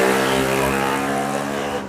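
A second-hand motorbike ridden along a highway near Kolkata, its engine droning steadily and loudly throughout with a continuous road rush, no voices over it.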